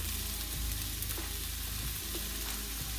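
Deli bacon renders in a pan with a dense, steady sizzle and crackle that fills the whole stretch evenly, close and alone, with a few faint scrapes.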